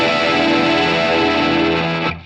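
A distorted electric guitar chord from a riff, voiced over the open low E string, rings loud and sustained for about two seconds before cutting off abruptly.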